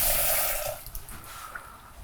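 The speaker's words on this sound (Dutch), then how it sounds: "We are adding water, not so much." A small amount of water is poured into a pan of cardamom seeds, a brief splashing trickle that fades after under a second into quiet, faint drips.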